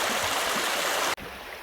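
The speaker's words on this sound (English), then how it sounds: "At the bottom of Brat Tor is a river crossing." Rushing river at the Brat Tor crossing on Dartmoor, a steady broadband wash of water close by that cuts off sharply near the end and resumes slightly softer, with no voices.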